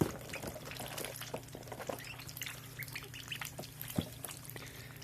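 Backyard ducks give scattered quacks and calls at close range over a steady low hum, with a sharper quack near the end and faint dripping water in the background.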